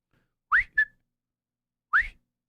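Someone whistles a short tune from the Andy Griffith Show theme in three clear rising notes, two close together and a third after a pause, close to the microphone in otherwise silent surroundings.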